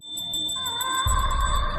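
A bell rung at a house door gives a bright, ringing chime with a sustained tone and quick repeated strikes, close and clear, with a low rumble entering midway.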